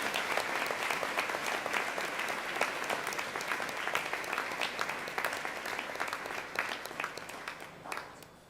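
An audience applauds Year 9 Cum Laude award winners at a school awards ceremony, loud sustained clapping from a full hall that holds steady then thins and fades out near the end.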